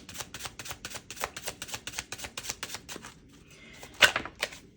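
Tarot cards drawn from a deck, a quick run of crisp clicking slaps and flicks in steady rhythm, close and fairly loud, ending with a sharper snap and a few softer taps.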